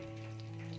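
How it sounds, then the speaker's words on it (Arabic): Hot ghee or oil with shawarma frying, a brief, steady and fairly quiet sizzle with soft crackle, heard alone. "لازم السمنه او الزيت يقدحوا، عشان اما انزل الشاورما تاخد صدمه"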